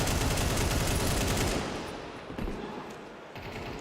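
Dense gunfire in a Counter-Strike match on the Dust map, a rapid burst of automatic shots crackling loud and close, then tapering into quieter scattered shots and thuds.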